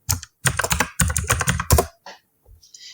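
A texture name is typed on a computer keyboard in a quick burst of close, crisp key clicks, followed by a pause and a few softer taps.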